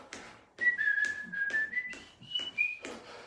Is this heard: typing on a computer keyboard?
no